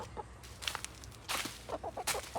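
Backyard hens cluck in short, close bursts, a few soft calls then a busier cluster of rapid clucks near the end, with no talking.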